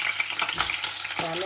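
Garlic for a Gujarati ringan no oro frying in hot oil in a pan, a steady close sizzle with crackling bursts and stirring scrapes throughout, no voices.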